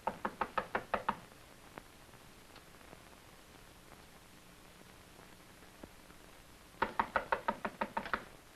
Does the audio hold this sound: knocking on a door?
yes